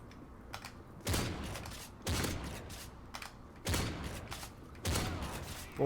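Gunfire in Modern Warfare 3 multiplayer: four or five sharp, loud reports spaced about a second apart, each followed by a short decaying tail, with faint clicks and softer thumps between them.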